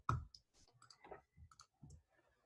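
Light, quiet mouse clicks while working with shapes in Adobe Illustrator, a scattered series of small taps at an irregular pace with near silence between them.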